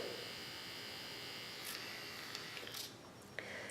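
An electric makeup brush cleaner whirs at a steady, close buzz as it spins a damp brush dry, with a few faint ticks and rattles near the end.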